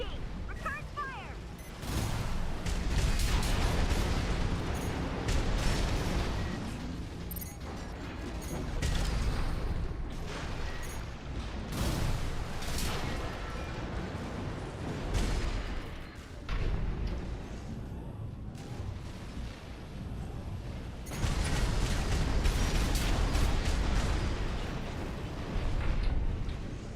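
Combat in the mech video game Armored Core 6, heavy mechanical gunfire and rumbling explosions in loud, dense waves with brief lulls, and voices shouting over the fighting.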